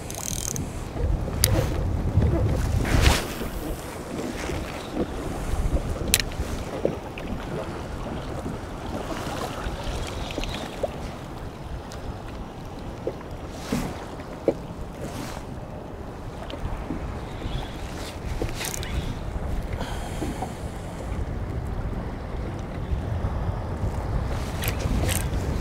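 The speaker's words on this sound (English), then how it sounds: "This wind and waves are really messing with me." Strong wind and choppy waves batter a Hobie Outback fishing kayak on open water, a constant roaring rush with gusty microphone buffeting and splashes throughout, no talking.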